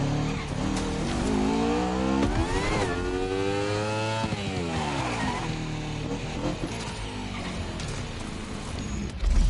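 A motorbike engine in The Crew Motorfest racing game, loud and continuous, revving up and down through the gears with rising and falling pitch sweeps and brief tire squeal, no talk over it.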